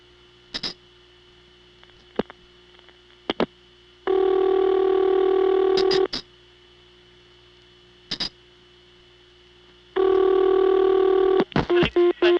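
A telephone number dialed on a 1982 Siemens motor switch exchange in Ocala, Florida, heard as a series of short, sharp pulses and clicks broken up by two long, steady tone bursts, all loud and close with no talking.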